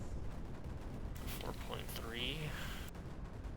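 Barrage weapons fire in Creeper World 4, a faint scatter of thuds and bursts with whooshing, sweeping tones layered over steady background game noise, a short busy flurry in the middle.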